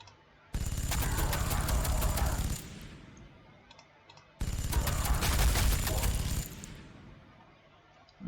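Rapid gunfire in Warhammer 40,000: Sanctus Reach comes in two loud bursts of about two seconds each, dense rattling volleys separated by a short pause.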